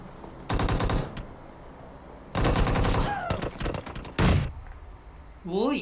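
Rapid automatic gunfire in a PUBG Mobile match comes in several loud bursts of evenly spaced shots with short pauses between them, and excited voices talk among them.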